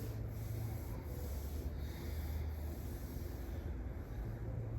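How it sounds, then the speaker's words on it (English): Palms rub slowly against the thighs, making a soft, continuous brushing at low volume over a quiet, even room hum, with no talk. "maybe rubbing the thighs a time or two."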